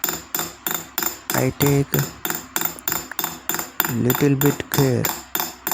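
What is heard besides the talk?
hammering metal towards stones in a stone setting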